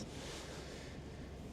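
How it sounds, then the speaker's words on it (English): Strong wind buffeting a microphone near an erupting volcano cone in Iceland, a steady broadband roar with surf-like rushing, continuous and fairly faint throughout, with no voices. "We just have a lot of wind"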